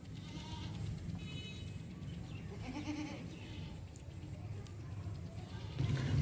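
Goats and young kids of a popular Pakistani Rajanpuri breed bleat now and then on a farm, with short cries over steady background noise and people talking nearby.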